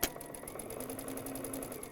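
A sewing machine runs steadily at speed, stitching quilt pieces for a table runner in assembly-line fashion. Its needle whirs in a fast, even, continuous rhythm, close and alone with no voices.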